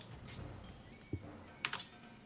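A few scattered keystrokes tap on a computer keyboard during a tabletop D&D game session, faint and sparse against a quiet room hum, with no voices.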